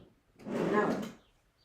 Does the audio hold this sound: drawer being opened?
yes